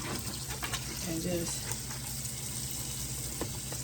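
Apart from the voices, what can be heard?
water running from a kitchen faucet into the sink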